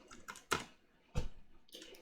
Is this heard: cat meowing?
no